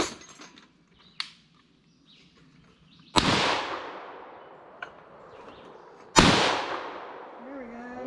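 Two loud, sharp rifle shots from an FN PS90 crack out a few seconds apart, each trailing off in an outdoor echo, with a few smaller clicks and brief talk between them.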